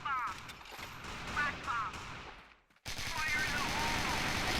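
Rapid bursts of gunfire from a weapon in a Mexico-map shooter match ring out steadily across the whole stretch, cutting off for a brief instant midway before resuming with the same dense, sustained rattle, mixed with game noise.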